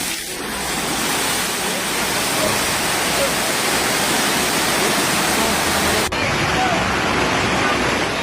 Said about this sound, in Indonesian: Detik-detik meluapnya air sungai di wilayah Kecamatan Leato, Kota Gorontalo terekam kamera warga